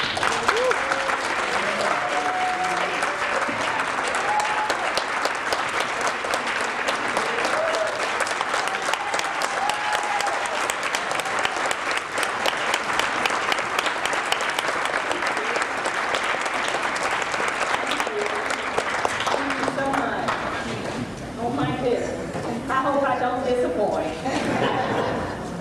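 Sustained audience applause at a community MLK Day program welcoming a newly elected district court judge, steady clapping from a sizable crowd with some chuckles and chatter, easing off near the end as voices emerge.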